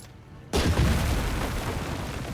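A tank shell strikes in the Headquarters World War II video game, a sudden loud boom after a half-second of quiet, followed by a rumbling decay that lingers to the end.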